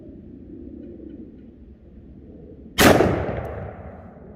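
A single loud, sharp gunshot from a 2.5 inch barrel revolver firing Hornady Handgun Hunter .44 Mag or .454 Casull ammunition cracks close by, then rings out and fades over a low background hum.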